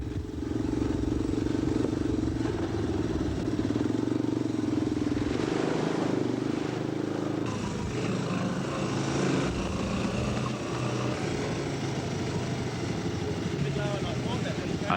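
Wide-tyred motorbikes ride across the Kakadu floodplains, their engines droning steadily and continuously with shifting pitch, heard at a moderate distance with no break.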